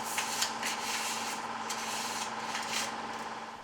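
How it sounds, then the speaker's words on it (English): Light hand sanding across gun stocks before priming gives a steady, close scratchy rubbing with rhythmic strokes and a faint underlying hum, with no voices. "do a quick sand on them, a light sand"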